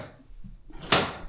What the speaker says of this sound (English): Open up the drawers.